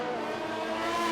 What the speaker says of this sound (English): Oh, he gets very sideways, and that's, oh, he's spun the car.